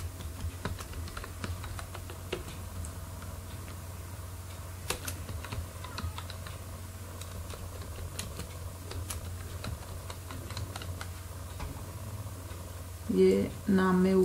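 Steady typing on a computer keyboard, with irregular clicky keystrokes and scattered louder taps over a low hum, and a brief burst of other sound near the end.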